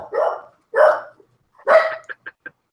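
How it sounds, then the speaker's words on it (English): A single dog barks in three loud bursts, followed by three short sharp yips, close by and with no one talking. "Is that your dog, Tonya?"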